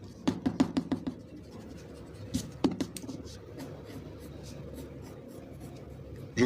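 Pencil strokes scratch across paper while a dinosaur leg is sketched, a quick run of short scrapes followed by a pause, another small cluster, then steady soft rubbing, close and quiet with no voices.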